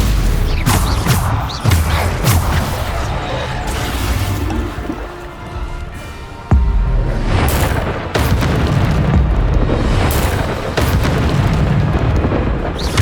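Loud, dense spell combat from Hogwarts Legacy, with repeated booming blasts and bursts layered over continuous rumbling battle noise, one sharp crack standing out midway.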